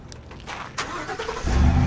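A truck engine is started, with a couple of faint clicks and a cranking whir that catches and swells into a louder, steady low running rumble close by.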